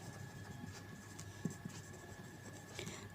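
A pen writes out a maths solution on paper with faint, close scratching strokes that stop and start in short bursts. A low steady hum runs underneath and no one speaks.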